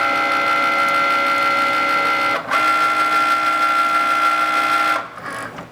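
Cricut cutting machine loading the mat, a steady whirring motor hum with a high tonal whine, briefly dropping out once midway and fading near the end.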